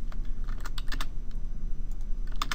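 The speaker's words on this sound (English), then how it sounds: "And you can see how I'm typing those in." Fast, irregular typing on a computer keyboard, crisp clicking keystrokes close up over a faint steady background hum, no one speaking.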